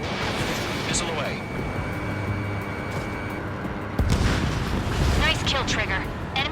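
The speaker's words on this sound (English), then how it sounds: "Missile away." A missile launch and hit in Ace Combat 7, a whooshing release followed by a sharp louder burst about two-thirds through, over constant jet and wind roar with voices talking.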